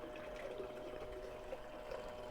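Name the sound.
water flowing while panning Gold Hunter 77 beach paydirt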